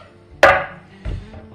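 A knife trims a rolled capocollo wrapped in pancetta on a board, two distinct close cuts: a sharp slicing stroke followed by a duller chop about half a second later.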